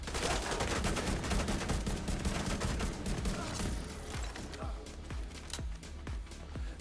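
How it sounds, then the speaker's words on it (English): Rifle fire from The Division 2 rattles in a dense, fast burst at first, then thins into spaced single shots, each sharp and close, over a steady background of game noise. "the idea of the rifle is to pull that trigger as fast as you can"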